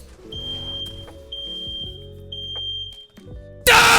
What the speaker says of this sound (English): I got this dumbass fucking fire alarm going in the background